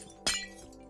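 A single glass block shatters in Minecraft, one sharp bright crash that fades quickly into a faint steady background.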